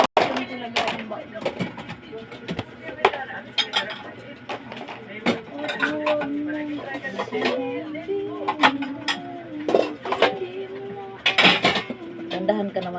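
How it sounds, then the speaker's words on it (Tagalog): Dishes and a plate being banged roughly during washing, with repeated sharp clinks and clatters of crockery and cutlery at close range under ongoing conversation. "Grabe ka dyan sa plato, ah. Parang binubugbog mo na yan."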